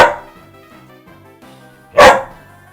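A dog gives a single loud, sharp bark near the end, following a quieter stretch with faint tonal background sound and no speech.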